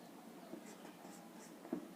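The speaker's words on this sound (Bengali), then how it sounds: "আমি এটা এখানে লিখে দিচ্ছি" Pen writing out a maths solution on paper, soft continuous scratching strokes with a slightly louder tap near the end, faint and close.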